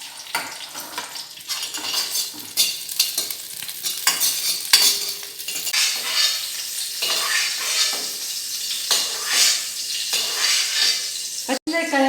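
Green chillies dropped into hot oil in a pan while making a nalleru (veldt grape) chutney, a steady crackling sizzle with a spoon stirring and clinking against the metal pan, close and continuous.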